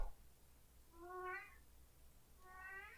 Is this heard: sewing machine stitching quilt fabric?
no